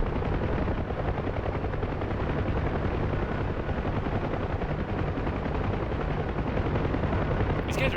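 Gunfire in the DCS Huey helicopter combat game, rapid bursts of shots layered over the constant heavy thrum of rotor and engine, dense and loud for the whole stretch with no pauses.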